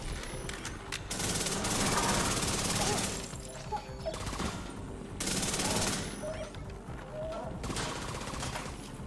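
Rapid bursts of automatic fire from the Chatterbox gun in a video game, several loud sustained volleys separated by brief pauses, with faint clatter between.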